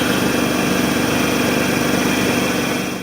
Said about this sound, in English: your pump is making a whining noise like this